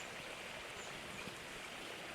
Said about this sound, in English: So here I have the sound of the waterfall.